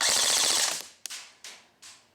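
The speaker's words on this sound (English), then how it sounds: "now let's go full auto and figure out the rounds per minute on this gun" A Real Sword Type 97 airsoft gun running on a 10.8 volt battery fires a fast full-auto burst at close range, its rapid mechanical clatter stopping abruptly, then three crisp, loud single cracks with short decaying tails.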